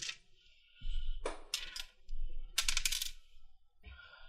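Dice clatter across a table in a tabletop role-playing session, with a few loud rattling bursts separated by short pauses, close and fairly prominent.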